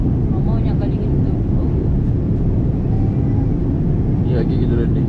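Steady airplane cabin roar during the approach to landing on a flight to Busan, South Korea, a dense low rumble throughout with people chatting faintly over it.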